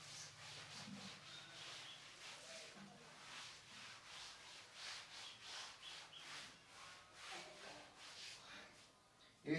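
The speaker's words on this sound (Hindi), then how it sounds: "फ्रेंड्स हम डायग्राम भी रब कर देते हैं।" A diagram being rubbed off a classroom board in a long series of rhythmic back-and-forth scrubbing strokes, steady and fairly quiet, with no talk.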